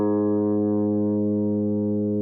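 A guitar's A string tuned down a whole step to G sharp rings out as one sustained, steady note, clear and close with rich overtones, fading only slightly over about two seconds.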